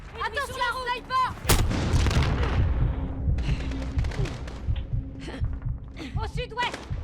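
Gunfire in Call of Duty Modern Warfare, a loud sharp crack near the start with heavy rumbling battle noise and scattered shots after, under shouted voices and game chatter.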